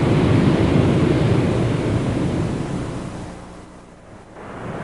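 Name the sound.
sea waves at seaside cliffs in San Diego, California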